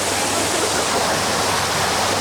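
A waterfall on the Jungle Cruise theme-park ride at Universal Studios, a loud, steady, close rush of falling water that fills the whole moment without any voices.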